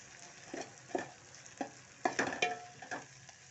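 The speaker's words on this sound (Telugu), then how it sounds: "మాడిపోకుండా జాగ్రత్తగా వేగేటట్టు చూసుకుంటున్నాం" Fenugreek leaves fry in a pan and are stirred, with soft sizzling under a series of scraping and clinking stir strokes from a utensil, close-up, irregular and fairly quiet.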